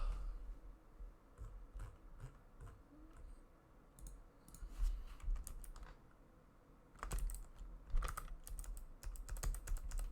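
Fast, uneven clatter of keys on a computer keyboard, bursts of rapid keystrokes with brief pauses, close and fairly quiet, no voices.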